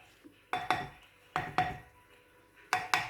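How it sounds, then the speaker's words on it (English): Shortbread dough being mixed in a bowl, with three pairs of sharp clinks and scrapes of utensil against bowl spaced about a second apart, close and fairly quiet with near silence between. "you want to mix that all together to create a nice doughy consistency"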